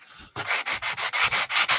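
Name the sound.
sanding a wooden heart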